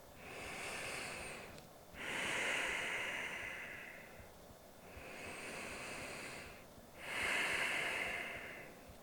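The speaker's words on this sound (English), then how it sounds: "Two more breaths here." Slow, deep breaths in a yoga forward fold, close and airy, with two full inhale-exhale cycles rising and falling in a steady rhythm and short pauses between, without any speech.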